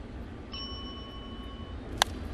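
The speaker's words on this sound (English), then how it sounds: "You got the bell right out of the chute" A single bright bell strike rings out once, preceded by a sustained tonal ringing, at a baseball game between Milwaukee and Miami amid steady stadium crowd noise.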